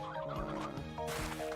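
Chickens cluck and gobble in a video game farming scene, a busy run of short fowl calls repeating over a steady game soundscape with music-like tones, loud and close, with no voices.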